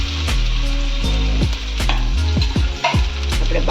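Potatoes frying in hot oil with mustard seeds, cumin and hing for a vegetable dish, a steady loud sizzle broken by repeated stirring scrapes against the pan.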